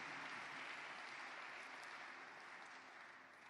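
A church conference audience applauds the Dalo Ministries organizing team with steady, dense clapping that carries evenly throughout, softening slightly toward the end.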